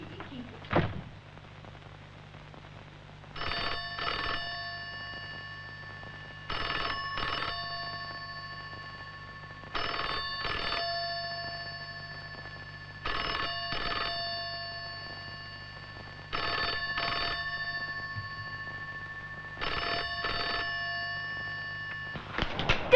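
A landline telephone bell rings in repeated double bursts, six rings spread evenly across the stretch, loud and close over a steady low hum in a quiet room, with no one speaking.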